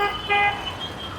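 A vehicle horn toots in the traffic of Varanasi, India: one sustained honk that swells briefly, set against a constant wash of street and engine noise.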